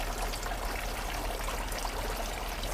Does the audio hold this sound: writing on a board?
no